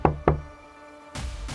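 An audiobook sound effect of a door being shut: two quick hard knocks, a short pause, then a duller thump as the door closes.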